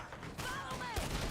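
Gunfire in the western game Red Dead Redemption 2, a short burst of loud shots and a whizzing ricochet during a gunfight against several enemies, with faint talk underneath.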